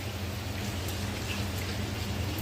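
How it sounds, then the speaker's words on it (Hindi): Steady rain from the first downpour of the monsoon season pours continuously as a dense, even hiss with a low rumble underneath, with no voices. "लेकिन बारिश होगी है।"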